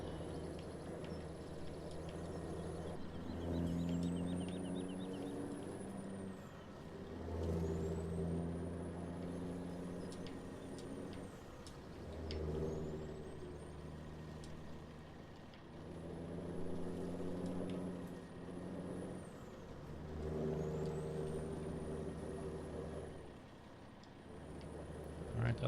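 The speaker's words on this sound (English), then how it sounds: "this truck, once it gets to going, it doesn't like to stop" A heavy truck in Farming Simulator 17 labors along with a low engine drone that rises and falls in repeated cycles, high whining tones sweeping with each shift, while someone talks over it throughout.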